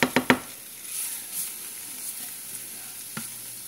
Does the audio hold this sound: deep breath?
no